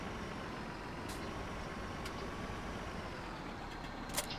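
A tractor pulls a trailer in Farming Simulator 17, a faint, steady engine drone with a few brief hissing clicks and a small knock near the end.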